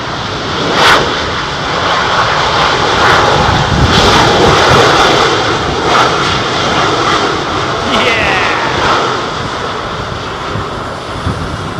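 An Emirates EK31 jet airliner passes at Heathrow Airport, its engines a loud, broad roar that swells and holds across the whole stretch, while a person talks over it.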